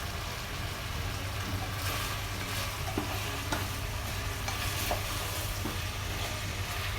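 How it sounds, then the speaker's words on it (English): Mutton browning in a pot for Kashmiri rogan josh, a steady close sizzle of frying meat with occasional stirring scrapes and crackles, no talking. "Now again it has started cooking, but still hasn't turned golden brown."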